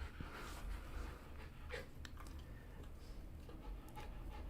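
A pet dog pants softly and a little unevenly nearby, with faint whimpers and snorts in a quiet room.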